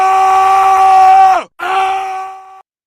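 A voice lets out a loud, sustained angry scream, a strained harmonic yell that holds steady for over a second, bends downward, then breaks into a second shorter cry, heard alone with no talk.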